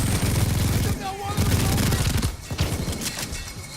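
Full-auto SMG gunfire in Payday 2, loud rapid bursts of close, rattling shots in quick succession with short breaks between strings of fire.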